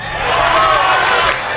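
At a 2023 high school baseball game between Berwick and Kinder, a crowd in the stands lets out a loud sustained roar of disapproval after a called strike three, under an announcer's voice.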